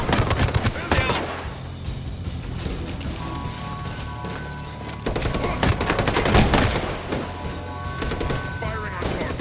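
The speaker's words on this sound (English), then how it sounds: "Firing on targets." Rapid bursts of automatic gunfire crackle through a firefight in Ghost Recon Breakpoint, with dense volleys near the start and a heavier stretch midway, loud and close, while voices speak over the shooting.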